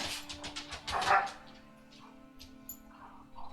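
Several dogs romp and wrestle, giving a burst of barks, yips and growls, loudest in a cluster around the first second, then quieter scuffling with a few faint yips near the end.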